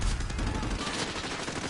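Vector SMG fire in Modern Warfare comes as a short, dense, loud burst of rapid shots, close up, with no talk over it.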